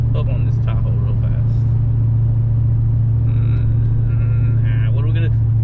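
A custom Chevrolet TrailBlazer SS engine drones in a deep, steady rumble that stays loud throughout, while people talk over it.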